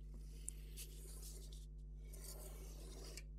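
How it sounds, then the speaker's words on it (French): A pencil held in a compass scrapes softly around paper to draw a 7 cm circle, a faint continuous rasping stroke over a steady low hum, close and quiet. "et je dessine un cercle très facilement"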